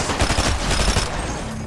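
A Megatron toy gun fires a rapid burst of electronic shots, loud and continuous for over a second, then trails off into a softer buzzing tail.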